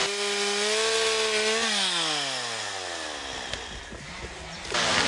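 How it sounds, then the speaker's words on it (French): A chainsaw cuts through a tree trunk right at the base of the stump beside a river. The engine runs loud and close, then its pitch sags as the chain bogs down in the wood, and the sound stays continuous with no talk. "En coupant l'arbre juste au bas de la souche"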